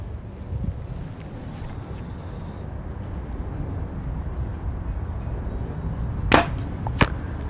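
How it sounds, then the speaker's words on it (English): A budget compound bow bought on Amazon is shot outdoors, giving two sharp, close snaps about a second apart against faint background noise. "The arrows come off here pretty good."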